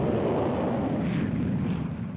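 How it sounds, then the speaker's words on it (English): A Gloster Javelin twin-jet delta-wing fighter flies past, giving a steady broad roar of jet noise that swells slightly and then eases. "This Delta aircraft is the Gloucester Javelin, a twin-jet fighter carrying full radar for night and all-weather work."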